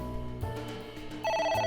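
A phone rings in AI: The Somnium Files, a ringing tone that steps up in pitch and grows louder near the end over a low musical backdrop.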